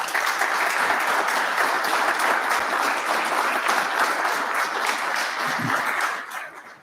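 An audience applauds to welcome Rep. John Curtis at a congressional speaker series, loud sustained clapping from a full room that holds steady for about six seconds before trailing off.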